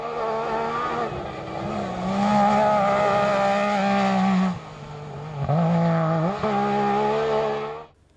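A Yamaha SSV races hard in a rally, its engine roaring loud and close as it revs up and down through gear changes, with a brief drop in the middle before it surges again and fades at the end.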